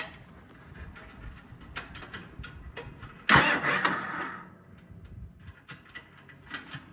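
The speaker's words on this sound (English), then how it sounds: "Slowly spin the engine over." A John Deere 450E dozer engine being slowly cranked over during a fan belt replacement, a loud burst of mechanical turning noise rising suddenly midway and fading over about a second, with quieter workshop clatter before and after.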